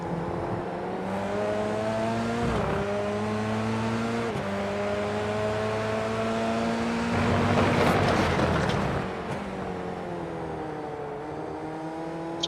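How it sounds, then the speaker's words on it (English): F3 race car lapping Twin Ring Motegi in a racing game, its engine droning loud and near as the pitch climbs then drops sharply with each gear change, several shifts in sequence with a louder rushing stretch midway. "as they go through the gears"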